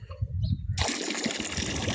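Lassi pouring from a large can into a goat feeding tub, a steady splashing pour that begins abruptly partway through and continues loud to the end, following a brief murmur of voices.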